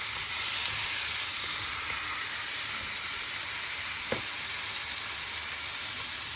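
Chicken pieces with ginger frying in sesame oil, a steady, dense sizzle and hiss holding even from start to finish, with one brief soft knock partway through.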